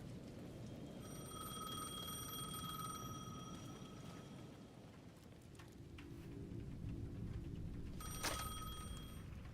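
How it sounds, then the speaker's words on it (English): A payphone at the edge of a plaza in the Alan Wake 2 video game rings in two bright, bell-like bursts, one long and a short later one, over a faint hiss of rain-like ambience. "The payphone at the edge of the plaza was ringing again."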